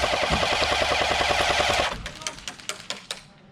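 A Glock 17 Gen 3 pistol firing: a rapid string of sharp shots in quick succession, then five or six separate, spaced reports that ring out and decay, fairly close and loud.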